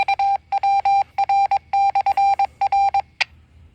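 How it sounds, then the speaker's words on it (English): Repeater Morse code station identification for W7VWR, a Valley Wide REACT repeater on 444.275 with an MTR2000, tapped out as a clear, fairly loud series of short and long tone pulses in a rhythmic sequence, ending with one brief blip. "we should hear our CWID here in a second"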